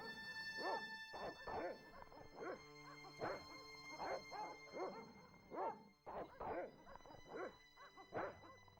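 Dogs bark repeatedly in the video game Broken Sword: Shadow of the Templars Reforged, with loud woofs and yips coming in irregular bursts over sustained background music tones.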